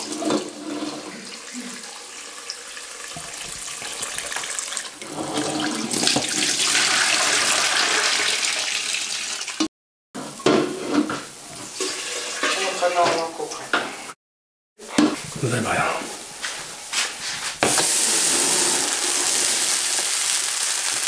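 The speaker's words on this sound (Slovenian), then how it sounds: "to moramo sprati odliti in na novo priliti vodo" Tap water gushes loudly and steadily while pig's trotters are rinsed for Styrian sour soup, with brief pauses and splashing changes in the flow. A voice talks faintly beneath it.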